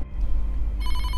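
A telephone rings with a bright, repeating electronic tone that starts partway through, over a steady low hum, with no voices.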